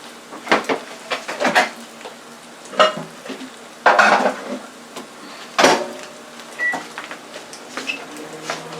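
Eggs fry in a pan with a steady crackling sizzle, broken by repeated scrapes and clinks of a spatula sliding under and flipping them.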